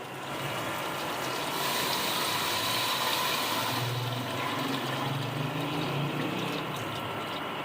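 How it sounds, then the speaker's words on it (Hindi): Water poured from a jug into a pot of beef korma: a steady, loud gushing rush that runs unbroken for the full clip and shifts slightly in tone as the pot fills. "अब इसके अंदर हम पानी डालेंगे।"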